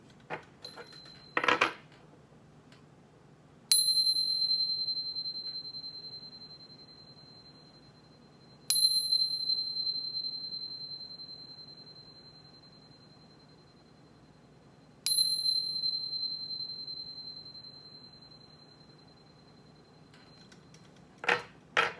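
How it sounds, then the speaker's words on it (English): Three bright metallic chime strikes, each ringing out and slowly decaying over several seconds, preceded by a brief cluster of small jingling taps; clear and close with no talking. "But first, let's chime."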